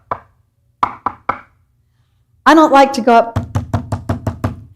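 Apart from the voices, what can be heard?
knocking on a door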